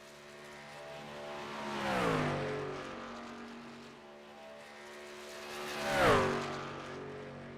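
Race trucks on practice runs at Auto Club Speedway roar past twice, each engine swelling and dropping in pitch as it sweeps by, with faint track noise in between.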